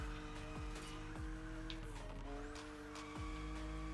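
A car drifting in the racing game The Crew Motorfest, with a steady engine drone and sustained tire squeal, broken by repeated sharp gear-shift dips in engine pitch, loud and continuous.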